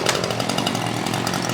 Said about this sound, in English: We've elected to go with a Stihl chainsaw, a 151 arborist saw.